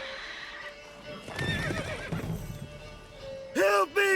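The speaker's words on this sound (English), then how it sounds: "Whoa there, Roach." A horse whinnies and neighs in The Witcher 3, with hooves clopping beneath a voice, followed by a louder, sharp neigh near the end.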